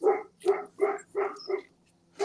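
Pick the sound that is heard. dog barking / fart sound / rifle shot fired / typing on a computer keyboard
dog barking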